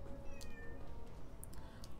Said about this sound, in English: Oh my god, my cat's going insane.